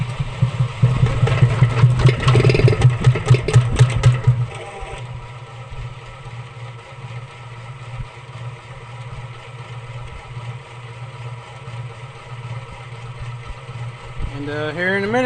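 Motorized honey extractor starting up with a loud rumbling, rattling spin for several seconds before settling into a steady, quieter running hum.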